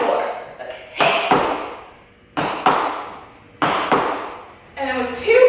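Sharp tap shoe brush steps slap a hard floor in three separated pairs of loud smacks, each ringing out briefly before the next, with a voice briefly heard at the end.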